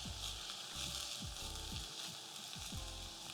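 Tofu sizzles in olive oil in a pan, a quiet continuous crackling hiss heard close, with low rumbling thumps pulsing underneath.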